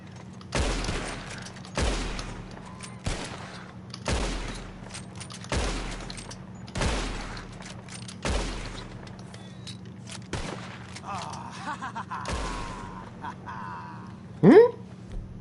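Gunfire shootout in the Western video game Red Dead Redemption 2: about a dozen loud, sharp shots at irregular intervals over a steady low hum, with a brief voice and a sharper crack near the end.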